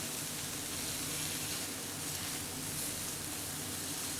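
A sous vide New York strip steak searing on a hot skillet just after being flipped, giving a steady, close, even sizzle that holds without a break and with no talk over it.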